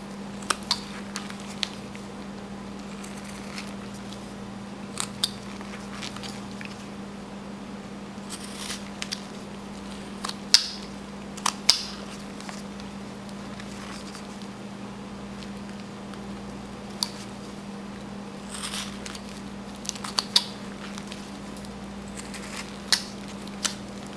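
A knife whittles a small carved wood figure, cutting a pants crease into the legs. Short scraping cuts come in scattered bursts over a steady low hum, close and fairly quiet, with no talking.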